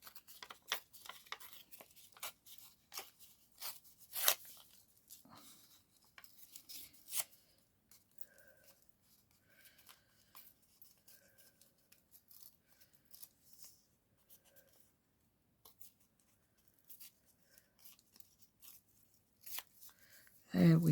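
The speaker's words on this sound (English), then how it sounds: "Now I'm going to tear it, I think." Paper torn by hand during a craft project, a run of sharp rips and rustles up close, with quieter handling and scattered soft sounds after, and a voice talking at times.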